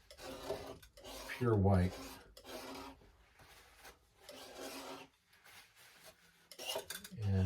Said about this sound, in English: Clean up my palette again, scrape that off of there